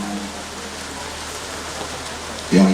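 Steady rain falls during an outdoor evening religious gathering, an even, moderate hiss with a brief louder burst of voice or sound at the end.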